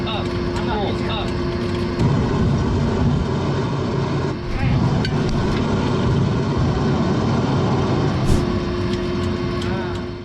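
Boeing 737NG engines at max thrust in a flight simulator game, a loud, steady engine roar that continues with no break, while talk runs over it.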